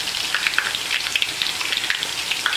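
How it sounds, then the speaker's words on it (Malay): Onion, garlic and ginger sizzle in hot oil in a pan, giving a steady, close crackling hiss with dense, rain-like popping and no talking. "Okey, minyak pun dah panas. Kita masukkan bahan-bahan penumisnya. Bawang besar, bawang putih dan juga halia."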